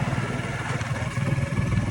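A motorbike on the road runs with a steady, loud, rumbling engine throughout.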